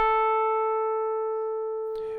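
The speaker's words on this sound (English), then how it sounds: "I'm going to play it on an electric piano" A single sustained A note on an electric piano rings out clean and pure with strong harmonics, slowly fading over about two seconds before a brief noisy thump cuts in at the end.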